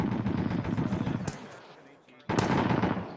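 Sustained automatic machine gun fire in the ArmA 3 military game, dense rapid bursts that cut out briefly and then resume at full loudness, with voices talking over it.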